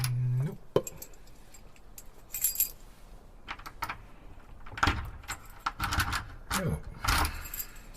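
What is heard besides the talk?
keys jangling, taken from a man's pocket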